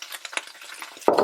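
Minced chicken stirred into frying ginger-garlic paste, with light scraping and spoon taps over a soft sizzle, then a loud burst of sizzling near the end as the meat hits the hot pan.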